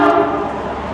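A loud, sustained horn blast from a passing train near the historic 1775 town of Jonesborough area in Tennessee, a steady tonal drone holding for the full second, filling the air alone without talk.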